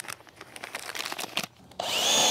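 A power drill driving screws to fasten PVC pipes onto wood, with rough scraping bursts followed by a rising motor whine near the end, close and fairly loud with no talking.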